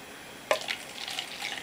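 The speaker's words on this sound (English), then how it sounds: "Let's go ahead and pour this into the finest bachelor's glassware" Mountain Dew Purple Thunder soda poured into a glass, a short splashing gush that settles into a soft fizzing trickle, quiet and close.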